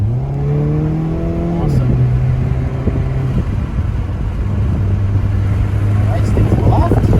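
A car accelerates hard during a fast driving lesson, its engine revving up in a rising pitch, dropping and then building again as a loud, close drone under an instructor's brief spoken remark.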